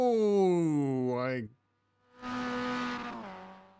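A Mazda MX5 race car in iRacing at Oulton Park brakes hard into a hairpin, the engine note falling as it drops gears, then a brief silence and renewed engine with tire scrub.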